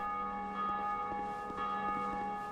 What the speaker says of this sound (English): The next thing we're going to do is ring the bell by pulling this lever.